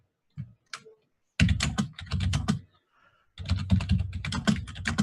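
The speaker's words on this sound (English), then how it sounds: "It sounds like with those heavy keyboards, it sounds like they're telegraphing each other" Heavy computer keyboards clatter in dense bursts of rapid keystrokes, loud and close, with short pauses between the flurries and no talking.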